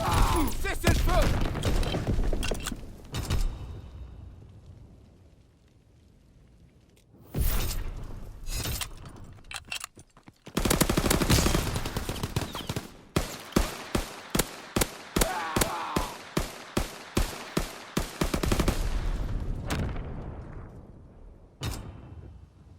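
Grease Gun submachine gun in a World War II game on the Valkyrie map in Domination mode: loud bursts and a long run of rapid, evenly spaced shots, broken by pauses and game voice lines.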